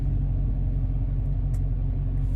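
A Mopar Scat Pack car's engine idles in sport mode with a steady, deep low rumble that stays close and even throughout, no voices over it.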